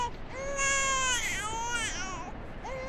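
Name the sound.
baby crying in the video game Outlast 2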